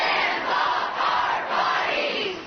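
A large crowd of women and men at an abortion-rights protest rally shouts and cheers together in a loud, sustained roar that swells and dips.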